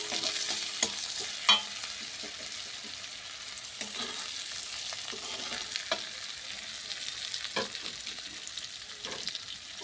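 Onion and green chilli with spices stir-frying in a pan for taro leaves cooked with hilsa fish, a steady close sizzle with spoon scrapes and stirring clatter throughout, no voices.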